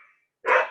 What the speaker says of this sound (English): Uh-oh, the dogs are coming out.